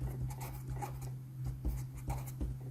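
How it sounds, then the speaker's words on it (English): Pen writing a math question onto paper while solving an exam problem: faint, steady scratching strokes with soft taps, close and quiet over a low background hum, no talking. "let me write that question down"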